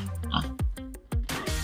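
A pig on a Filipino pig farm gives several short, loud grunts in quick succession, close by, with a few brief rustles between them.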